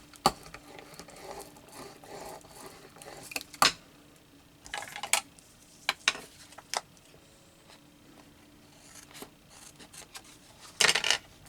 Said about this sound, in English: I'm going to cut that off where it's so white